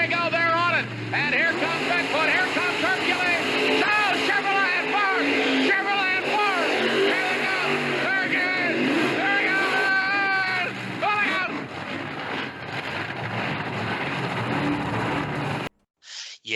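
Monster trucks Bigfoot and Hercules, a Chevrolet and a Ford, race side by side at a 1988 event in Columbus, Ohio, engines roaring loud and wavering under constant crowd noise and announcer talk.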